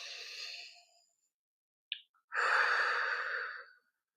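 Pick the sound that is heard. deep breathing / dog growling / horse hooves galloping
deep breathing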